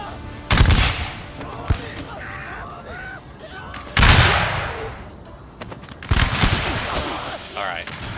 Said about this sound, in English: Incoming enemy fire!